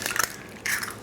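Eggs are cracked in a home Italian kitchen while making arancini: two short crunchy cracks, close and crisp, one after the other with a brief pause between.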